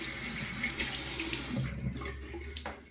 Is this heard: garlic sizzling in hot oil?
no